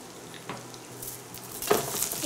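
Chanterelle mushrooms sautéing in a pan with garlic and herbs give a soft, steady sizzle, with a few stirring scrapes and a brief louder clatter near the end.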